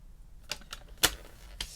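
Cardstock being scored on a scoring board while making Stampin' Up favour boxes, a few sharp, close clicks and scrapes spaced irregularly, one louder than the rest, with no speech.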